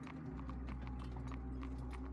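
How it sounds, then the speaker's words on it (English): Horse hooves clip-clop steadily and evenly as a coachman's horse pulls a coach away in the video game Omen Exitio: Plague, set over a constant low droning ambience. "The coachman rips his horse into motion."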